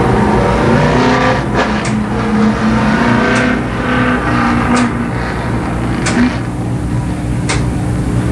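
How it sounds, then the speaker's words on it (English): Late model race cars run the first heat race at Columbus Motor Speedway, a loud, steady engine roar with rising and falling revs and occasional sharp surges as cars pass close by. "the first late model heat race"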